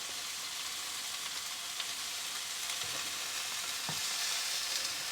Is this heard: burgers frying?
yes